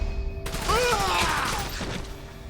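Gunfire from the video game Like a Dragon: Infinite Wealth, a loud burst of shots with a ringing, mechanical tail, dense and close, under background game sound.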